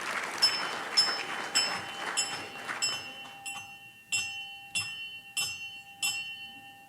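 A single bell rings ten evenly spaced times at a Rotary club meeting, each strike bright and ringing, clear and fairly near with a lingering tone between strokes.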